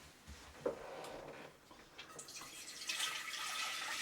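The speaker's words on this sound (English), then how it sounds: "I'll just get rid of this sodium hydroxide saucepan, put it in the sink." A saucepan used for sodium hydroxide while making soap is set into a sink with a soft clunk, then tap water runs and splashes, growing louder toward the end.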